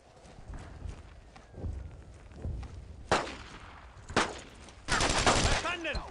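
Bursts of World War II infantry gunfire in the video game Brothers In Arms: Road to Hill 30, scattered sharp shots building to a dense sustained volley at the end, over a low battlefield rumble with shouted voices.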